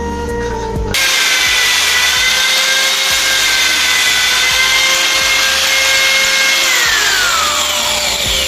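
A power tool cuts through a metal lock with a loud, sustained high-pitched grinding whine that begins abruptly and runs steadily, slowly shifting pitch toward the end.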